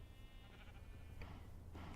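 Sheep bleating in the Minecraft video game, a faint, low-level pair of short bleats over a quiet background.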